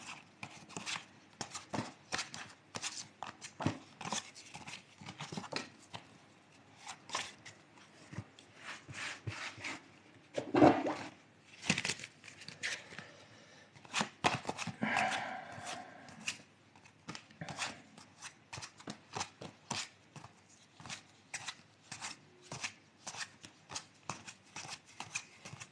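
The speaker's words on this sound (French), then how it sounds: "il faut que je refasse le tri dans mes cartes" A deck of fortune-telling cards is shuffled and sorted by hand, a long run of quick, dry riffling and flicking taps with a couple of louder bursts, close and steady with no talking.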